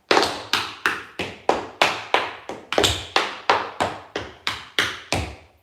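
Tap dance steps struck on a hard floor during a tap class, about fifteen crisp, loud, evenly spaced taps in a steady rhythm, close by with no talking.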